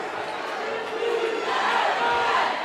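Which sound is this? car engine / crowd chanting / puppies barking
crowd chanting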